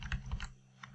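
Keys on a computer keyboard tapped out as a search word is entered in Excel, a quick cluster of soft clicks up close with a lone keystroke after a short pause.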